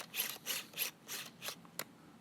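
Old Canon 50mm f/1.8 lens autofocus motor whining in short, repeated high-pitched bursts, about six quick buzzing pulses close up with no talking.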